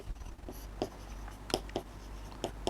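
A pen or pencil scratches across paper in short strokes during a maths lesson on symmetry, soft intermittent scrapes over a low steady hum, close but faint, with no talking.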